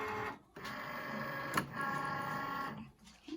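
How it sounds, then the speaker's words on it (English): A Cricut cutting machine loading a cutting mat gives a steady mechanical whir with a brief click partway through, then the motor sound resumes and stops near the end. "And now we're gonna load our mat into our machine."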